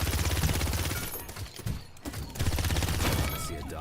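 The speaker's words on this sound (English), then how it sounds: "With Koga, you got an R2 with machine guns," Machine gun fire from Koga's R2 ability in Paladins, a dense, loud, continuous rattle of rapid shots with a brief dip midway before the stream resumes, no voices over it.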